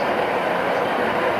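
A ScotRail train at Dumfries Station gives off a steady, loud, continuous rumble of rail running noise with no voices over it.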